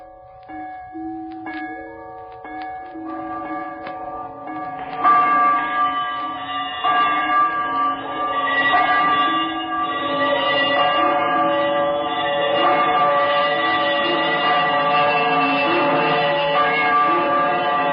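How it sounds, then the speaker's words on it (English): A disused bell hanging in a room starts swinging and ringing in a Christmas Carol radio drama, its tones entering softly and then swelling into a fuller, layered, sustained ringing that keeps building without any voices. "he saw this bell begin to swing."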